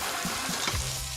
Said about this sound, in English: Just a touch of olive oil. Lamb in, hold the bone, because you're in control then, into the pan.